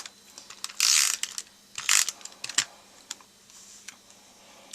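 Stampin' Up! Snail adhesive tape runner pulled across the back of a card piece, two loud, scratchy rolling strokes followed by soft clicks and taps, close by.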